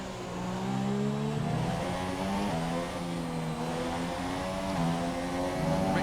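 A Formula 1 race car engine in the video game F1 2018, racing at Australia, screaming loudly and steadily at high revs with rising pitch sweeps as it accelerates and shifts up through the gears, with no talk.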